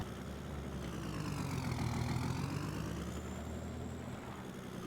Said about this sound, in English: We'll get the truck backed in here